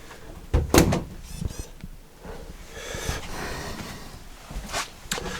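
A door in a 7-metre Fleurette camper van opens or closes with a sharp knock and thud, followed by softer rattles, shuffles and a few lighter clicks, close and alone without talk.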